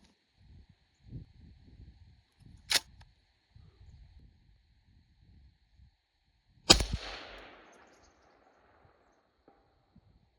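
A rifle chambered in 6ARC fires a single sharp, loud shot outdoors at a steel plate, preceded by another crisp click and followed by a decaying echo over faint rustling background.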